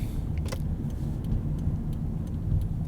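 A car pulls out onto a city road at night in Norwich, Connecticut, its engine a steady low rumble held throughout, with a brief rattling click early on and faint ticks above.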